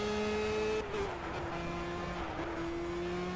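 A formula race car in a racing video game at Watkins Glen revs steadily at high pitch, with a gear change shifting its tone near one second and again later. The engine drone runs loud and continuous throughout, with no talk over it.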